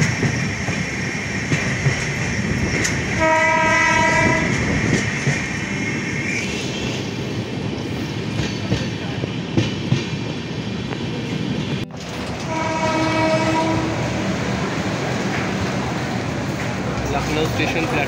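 A passenger train rolls into Lucknow station platform 3 after passing Ayodhya, with a continuous rumble, wheel clatter and brief squealing tones, steady and close, then a slight drop before the noise swells again.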